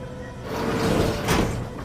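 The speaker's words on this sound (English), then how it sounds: "Close that door so no one can see me." A door in the video game The Outer Worlds 2 slides shut with a broad, whooshing mechanical rush that swells and ends in a soft thud, close and fairly loud.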